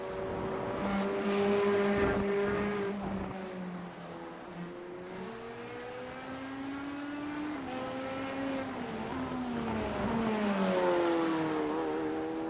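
A GT3 race car works through the chicane at Jerez, engine note rising and dropping repeatedly with gear changes and throttle lifts, sustained and fairly close, with a brief crackle on downshifts.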